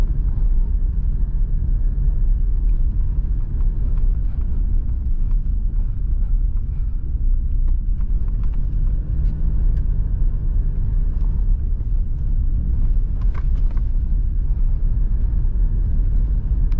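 A 2020 Toyota Revo V pickup with a 2.8 L diesel engine drives over an unpaved dirt road, producing a loud, steady low rumble with wind noise and faint rattles throughout, and no voices.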